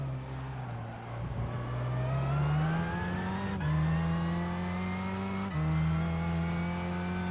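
A race car in the Gran Turismo 5 video game accelerates hard through repeated gear changes, its engine whine rising steadily and dropping at each shift, loud and steady with no talk.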